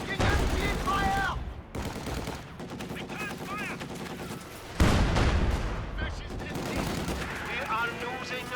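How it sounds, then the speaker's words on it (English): Gunfire in the Company of Heroes 2 strategy game, a World War II battle with German forces: dense bursts of machine-gun and rifle fire with a heavier boom, mixed with radio-style unit voice chatter and battle noise. "Taking enemy fire!"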